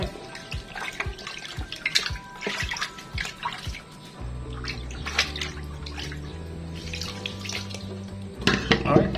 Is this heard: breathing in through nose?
no